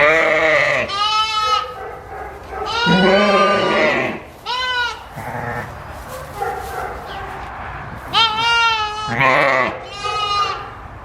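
A ewe and her two lambs bleat in a pen, loud close calls alternating with higher, shakier lamb cries in several bursts separated by short pauses.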